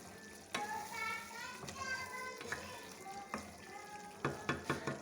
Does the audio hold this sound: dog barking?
no